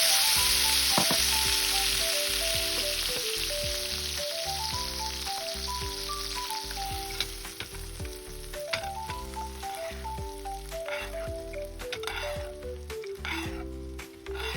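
Salmon fillet pan-seared in a frying pan with lemon zest and lemon juice, cooking on its second side, gives a steady close sizzle and fry that runs the whole time beneath a melodic music track.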